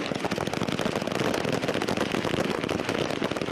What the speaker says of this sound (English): The deadly shooting of the 34 striking miners